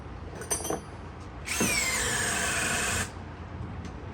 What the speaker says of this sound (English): HyperTough, first gear.